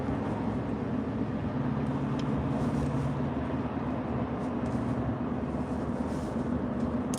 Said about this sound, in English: There is a bucket truck being carried by a truck here on a trailer.